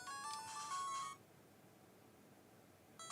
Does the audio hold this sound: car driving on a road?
no